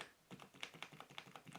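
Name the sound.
pressing and holding keys on Havit HV-KB380L gaming keyboard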